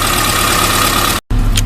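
A Suzuki Samurai engine running warm just after an oil change, idling as a loud, steady drone close by, with a brief cutout about two-thirds through before the rumble picks up again.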